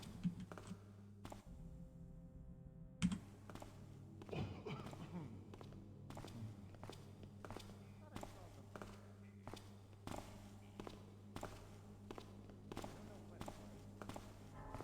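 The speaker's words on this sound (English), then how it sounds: "See, enemy footsteps." Enemy footsteps in Thief 2X tap out a steady, even series of soft, fairly faint thuds over a low droning ambience, with talk in places.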